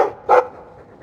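A dog in the fantasy game Dragon Age II gives a single short, sharp bark, loud and close, after a brief murmur of sound, then quiet game ambience.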